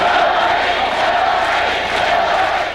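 A crowd at a private fundraiser makes a steady, dense murmur of many voices with some cheering, sustained and fairly loud throughout.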